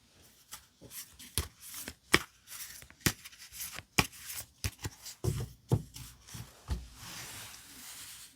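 Tarot cards shuffled and picked out close up, a series of crisp flicks and riffling snaps in an uneven rhythm, a few duller thuds as cards are set down, with no talk.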